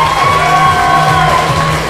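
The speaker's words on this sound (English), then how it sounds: "And the crowd goes wild." A boxing crowd roaring after a fight's closing exchange, a loud, sustained wall of cheering and shouting from many voices, dense and continuous throughout.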